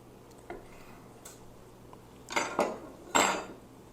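A knife slices through a grilled rib eye steak with a few faint scrapes and clinks, building to several louder cutting strokes against a plate or board. No voices are heard.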